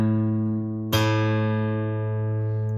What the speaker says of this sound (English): So if I fret the low E string on the 5th fret,